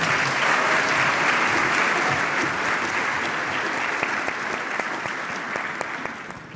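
Audience applause fills a ceremony hall as panelists are welcomed at a youth summer program closing event, a dense steady clapping that holds loud for several seconds, then slowly thins and fades.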